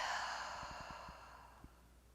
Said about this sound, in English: Let's take a slow, deep breath in